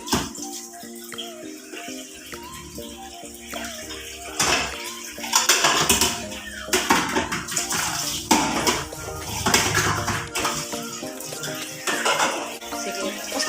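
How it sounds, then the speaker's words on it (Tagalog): A young girl washes plates at a sink under running water, with uneven clinks and clatters of dishes knocking together over the steady splash of the tap. "nakakapaghugas na po ng pinggan si Reyna"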